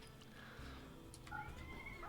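A cat meows in a video game, a faint, drawn-out mewing cry over a low, steady background hum.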